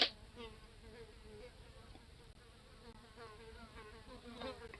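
A housefly buzzes steadily and close by, its droning hum wavering in pitch as it circles, with no voices over it.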